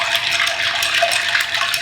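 A drink is poured over ice for a cocktail, making a steady, loud splashing and gushing stream close up that continues without a break.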